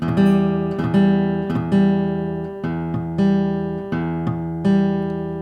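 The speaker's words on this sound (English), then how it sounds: "now we're playing the open E string open, the low E string open" A plucked guitar sounds repeated open low E string notes with the A string muted, several strums in a steady rhythm, each ringing briefly before the next, with a buzzy, partly damped tone.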